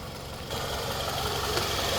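A replacement engine in a 2005 Toyota Camry idles with a steady mid-range hum and faint vibration. The sound grows slightly louder after the first half second, then holds even and close with no talking.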